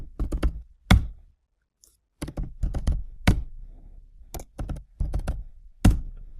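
Keys clacking on a computer keyboard as three salary figures are entered into a running program, close and distinct in short irregular bursts with brief pauses between groups of strokes.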